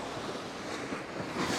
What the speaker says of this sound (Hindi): समंदर की लहरें, तेज़ लहरें